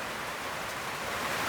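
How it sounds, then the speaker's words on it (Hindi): Heavy rain pours down as a dense, steady hiss, loud and continuous across the short stretch, with no voices on top. "देखिए बारिश बहुत ज़ोर से आ रही होगी"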